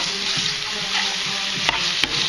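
Spices being stirred into food frying in a pan, a steady sizzle with scraping utensil strokes and two sharper clicks near the end, close and alone.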